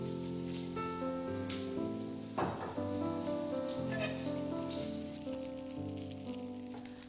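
Chicken kebabs sizzle in hot oil in a pan after more oil is added. A continuous soft crackle runs beneath louder melodic background music.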